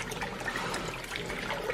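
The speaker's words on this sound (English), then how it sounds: "we're just washing the lid now, which had a ton of stuff on it" Running water pours steadily over the lid of a Dutch oven as it is washed, a close, continuous splashing hiss with no talk.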